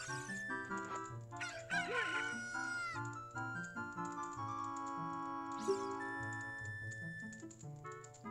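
A cucco crows in Ocarina of Time to wake the sleeping Talon, a bright, wavering cock-a-doodle call rising over a steady, music-like game backdrop, followed by a second crow, with no talking.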